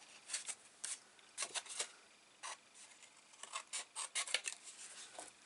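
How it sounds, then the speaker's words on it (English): A guillotine trimmer scoring paper for a mini album, heard as quiet, close dry scratches and short rasping strokes in irregular bursts, faint and without talk. "I'm just going to score that again now at 1/2 inch."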